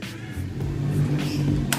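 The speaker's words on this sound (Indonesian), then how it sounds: "kemudian baru hal terakhir adalah kita nyalain mesin" A used motorcycle engine starts up and settles into a steady mid-pitched idle rumble, close and fairly loud throughout, with a brief higher burst near the end.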